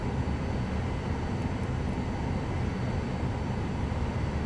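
A small plane's engine in Microsoft Flight Simulator 2020 drones at a steady, even roar, unbroken and fairly loud for the whole stretch, with no talking.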